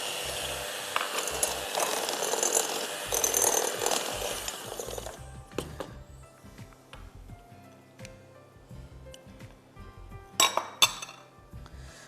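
Cookie brownie batter stirred in a bowl, with busy scraping and clinking of a utensil against the bowl for several seconds, then slower, sparser taps and clinks, the last few louder and sharper.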